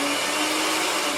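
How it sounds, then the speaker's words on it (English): A blender whirs steadily at high speed, close and loud, chopping salsa ingredients with olive oil and other liquid in a continuous unbroken roar and a constant motor whine. "I have enough liquid here to blend this"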